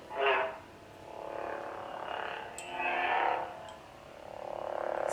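A Porg plush toy chirps and warbles as it is moved, giving three or four soft, croaky electronic calls with short gaps between them, close by and fairly quiet, with no talking.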